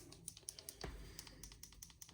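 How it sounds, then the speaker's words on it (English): Crisp tactile button clicks on a Ringke case fitted to a Google Pixel 10a phone, a quick run of sharp, close, fairly quiet presses with one slightly heavier thud partway through. "Nice tactile keys, as you can hear."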